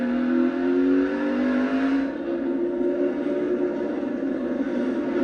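A NASCAR race car engine screams at high RPM, around 8,700, during a race, a loud, sustained, steady mechanical drone with no break.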